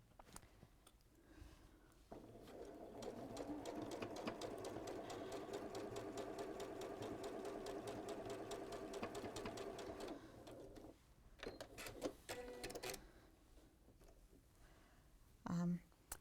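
A domestic sewing machine stitches fabric in one sustained, rapid run of steady mechanical whirring lasting several seconds, rising after a quiet start and stopping abruptly, with soft handling noises and faint talk around it.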